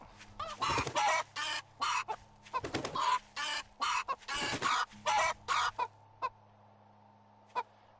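A chicken in the video game 7 Days to Die clucks and squawks in a rapid loud burst of calls that thins to a few isolated clucks over a steady hum.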